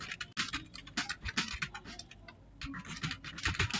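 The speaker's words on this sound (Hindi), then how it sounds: "अब मैं टाइप कर ले रहा हूँ" Rapid, uneven clicking of a computer keyboard being typed on, steady keystrokes close by with no voices.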